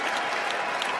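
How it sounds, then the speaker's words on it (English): Spectators at a Berlin UCI Trials World Cup elite men's 20-inch bike final applaud and cheer loudly, a dense continuous clapping with some sharper claps poking through. "The crowd still celebrates him for the style in the second place."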